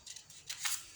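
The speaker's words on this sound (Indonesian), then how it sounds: "Kemudian kita bagi 2 menggunakan gunting" Scissors snipping through a sheet of folded paper to cut it in half, a few quick close, crisp cuts in a quiet room.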